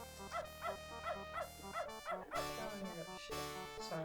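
Spunky the dog from the video game Beneath a Steel Sky gives a run of short, evenly spaced yaps and yips, loud and close, over a steady bed of game music.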